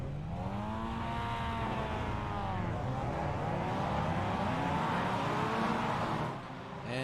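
Several MX-5 race cars in iRacing trundle behind the safety car at Imola, engines droning steadily with shifting pitch as they run together, loud and continuous before easing off near the end.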